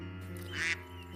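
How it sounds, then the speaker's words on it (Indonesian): Ducks quacking in a short burst, a brief harsh call rising in the middle over a steady low hum, fairly close and alone without talk. "Meskipun bebek sangat berisik"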